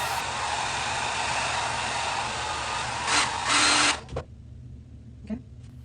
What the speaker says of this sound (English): I'm just gonna blow dry it for like maybe 15 seconds.